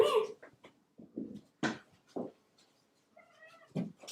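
Mama cat Butters, also called Butterscotch, meows several times in short, close, fairly quiet calls with pauses between them, while soft sounds of movement fill the gaps.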